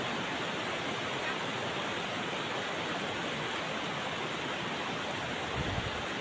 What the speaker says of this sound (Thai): ก็เริ่มน้ำท่วมเหมือนกันพี่น้องเลย